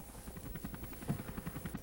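Rotor chop of a player's helicopter in the PlayStation game Army Men Air Attack 2, a steady rhythmic thudding whir with pulsing beats, heard alone and fairly quiet.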